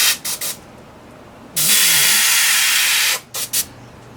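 An airbrush sprays paint in a long, steady, loud hiss lasting about a second and a half, bracketed by several short, sharp bursts before and after.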